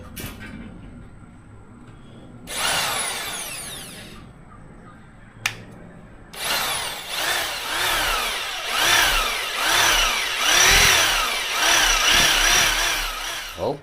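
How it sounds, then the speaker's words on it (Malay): Power tool cutting through an iron plate, several harsh grinding bursts, the last running long and loud with a dense metallic screech that wavers as the blade bites. "Saya nak potong besi dahulu."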